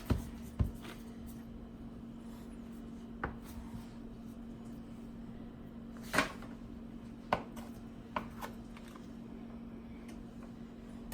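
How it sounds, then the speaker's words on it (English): A kitchen knife slicing a Galbani brand ingredient for lasagne: sparse, sharp taps of the blade against a cutting board, about eight irregular cuts close by over a low room hum. "let me slice a little bit more"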